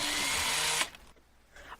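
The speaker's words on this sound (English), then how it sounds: "can we record the drill sound too?" A power drill whirs loudly and steadily up close for nearly a second, then cuts off abruptly, leaving quiet room noise with a faint after-sound.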